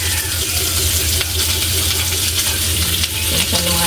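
Tulingan fish frying in hot oil in a pan, a dense, steady crackling sizzle throughout with no talking.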